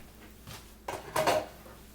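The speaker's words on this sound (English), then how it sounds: "The bay shrimp goes in." Bay shrimp go into a pot of seafood chowder with a few quick, close metallic clinks and clatters of a utensil against the pot, spread over about a second in an otherwise quiet kitchen.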